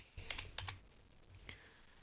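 A few quick presses on a computer keyboard, including the F1 key, giving a close, faint cluster of crisp clicks followed by one more isolated tap.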